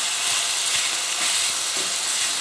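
Red peppers frying in a paella pan as they are stirred, giving a steady, close, even sizzle with faint scraping from the stirring and no talking.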